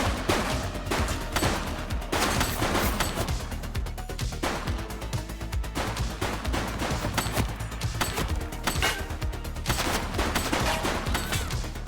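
Continuous, dense gunfire from the video game The Precinct: rapid overlapping shots and bursts hammer loudly and nonstop, like an automatic-weapon firefight.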